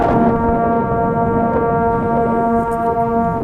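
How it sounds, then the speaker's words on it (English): A school band sustains a unison B flat tuning note, a steady blended tone held loud and even for several seconds with no talk over it. "Everyone together on a B flat. 1, 2, 3."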